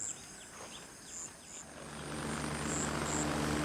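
A helicopter in the military shooter Gray Zone Warfare drones steadily with a low rotor hum that grows louder as it approaches, accompanied by faint high beeping tones.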